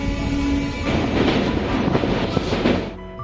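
Kanchankanya Express rolling through the general coach on its Alipurduar run, a loud steady rumble of wheels with rhythmic clickety-clack over rail joints, fading near the end.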